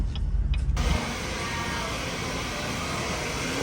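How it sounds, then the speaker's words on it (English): A van is driven along a road, with a steady engine and road hum throughout; a brief window-motor whir or a passing noise sits at the start, with no talk. "T-Dubs is taking the van for a spin."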